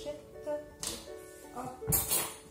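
A metal fork set down on a plate while an omelette cooks, giving a short clink near the end among soft kitchen handling.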